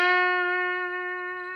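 A single guitar note played with the finger between the frets rather than over the fret wire rings out steadily with a clear, sustained tone and slowly fades, heard alone and close up.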